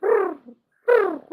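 A human voice imitates doves cooing, two hollow, rounded coo calls separated by a short pause, close and clear with no other sounds.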